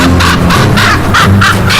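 Crows caw in the Arctic polar night, a loud close series of about six harsh, regular calls in quick succession over a low rumbling background.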